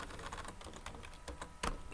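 Rapid clicking of computer keys typed in an uneven rhythm, close and fairly quiet, with a couple of sharper key strikes near the end and no talking.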